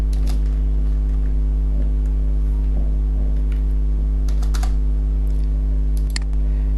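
Clicky computer keyboard typing while writing an HTML form tag with Bootstrap 5: irregular bursts of keystrokes over several seconds, near and distinct, above a constant low electrical hum.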